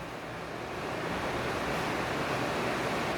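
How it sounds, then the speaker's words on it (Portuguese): Heavy rain pours outside in a dense, continuous wash of hiss, loud and steady with no pauses. "Tá caindo o pé d'água."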